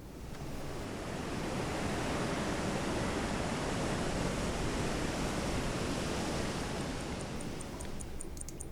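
Heavy ocean waves in the Silent Hunter 3 submarine game, a continuous loud wash of surf and wind with no pauses, steady throughout.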